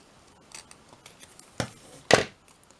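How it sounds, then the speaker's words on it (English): Scissors snipping a small slit into paper for a book-themed paper clip: a few light clicks, then two sharp close snips about half a second apart, with no voices. "just cut a little niche out of there, wherever the middle is"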